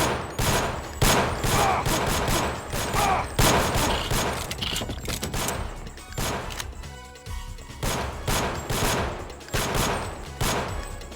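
Gunfire in the Deus Ex video game crackles in loud, close, repeated bursts of shots and impacts, with brief lulls between volleys and a muffled stretch midway.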